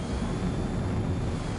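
Fighter jet engine in Ace Combat 7 during a landing attempt, a steady broadband roar holding at a constant loud level throughout with no voices.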